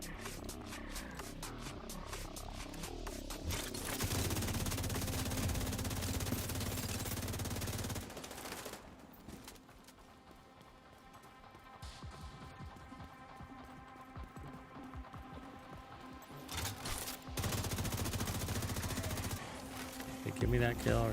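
Rapid bursts of automatic gunfire from shooting hyena enemies in The Division 2, dense crackling volleys that break off briefly, then resume in long sustained stretches.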